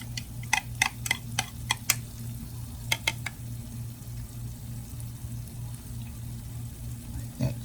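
Chaffle batter of egg and cheese is stirred in a bowl, giving a quick series of sharp clicking taps from the utensil against the side, then quieter scraping over a low hum, with soft sizzling from cooking nearby.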